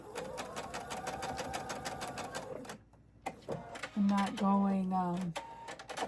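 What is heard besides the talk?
sewing machine stitching crumb-pieced hexagon patches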